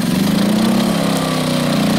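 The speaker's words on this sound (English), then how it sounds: "hook up the generator, flicker on" A portable generator of about 1,000 watts runs at a steady, loud drone near a truck at a desert BLM campsite, an even engine hum with no other sounds over it.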